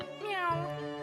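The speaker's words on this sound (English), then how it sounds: "Look at her with the cat." A cat meows once in the video game The Great Ace Attorney Chronicles, a drawn-out, rising-then-falling meow that is fairly quiet and clear.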